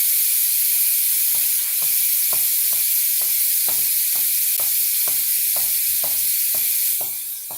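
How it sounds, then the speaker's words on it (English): Steam rushing out of an Instant Pot's pressure release valve, a loud, steady hiss that holds for several seconds over a row of faint, regular ticks, easing slightly at the very end. "Go ahead and let that pressure off."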